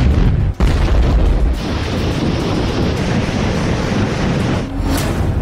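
Explosions blow apart Ukrainian armored vehicles and tanks in a heavy, sustained roar of blast noise. A dense low rumble carries throughout, with a brief sharp dip early on and a crackling burst near the end.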